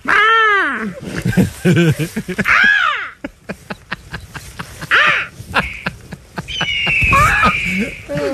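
A voice imitates an eagle or red-tailed hawk call with loud, rising and falling screeching cries, mixed with laughter and chatter from other people in a radio studio.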